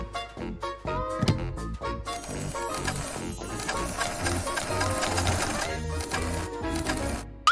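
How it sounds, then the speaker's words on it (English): A sewing machine stitches doll pajamas, its rapid mechanical chatter rising and falling in short runs with soft thunks, fairly close and moderately loud. "Wow, Sue, you're so good with the sewing machine!"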